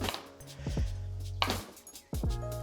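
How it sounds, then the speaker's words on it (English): A knife slices through cooked air-fried chicken for fajitas on a cutting board, making three crisp cutting strokes with a thud as each one hits the board, close and clear with no talk. "So I'm just gonna slice this as you would a fajita."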